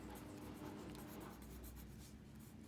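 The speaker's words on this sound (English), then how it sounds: "I'm just going to go in with my pencil right here, and we should label that this is an alto clef" Pencil scratching on paper in short, close strokes, a quiet continuous rasp of writing with no talking.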